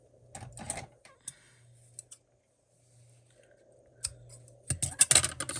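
Scissors snip a piece off a Dollar Tree flower vase craft, producing a few close, crisp cutting sounds separated by quiet pauses and some light handling noise.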